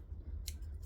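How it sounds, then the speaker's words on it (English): Scissors snip through the excess zipper tab ends on a sewn Yoshi backpack, two quick, crisp cuts, close and moderately loud over a low steady hum. "grab some scissors and you can just cut the excess zipper tab parts off"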